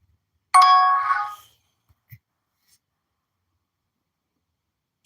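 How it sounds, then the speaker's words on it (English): A single bright notification ding rings out clearly in a quiet room, decaying over about a second, followed by silence with only a faint tick or two. "If you hear that ding, that's just a notification"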